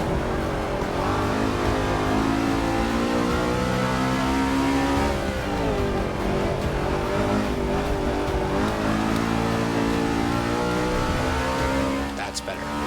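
A NASCAR stock car engine revving hard with its wheels spinning in Forza Motorsport 6, a loud, steady, droning roar whose pitch rises and falls throughout, with a voice talking underneath.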